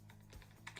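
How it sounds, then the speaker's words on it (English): Quiet typing on a computer keyboard, with a few soft, uneven key clicks in under a second, faint against a low background hum. "So if I just start typing something"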